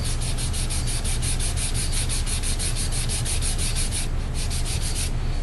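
Model rocket fins being sanded with a steady back-and-forth rhythm, about twenty quick close strokes of loud gritty scraping, with no talk.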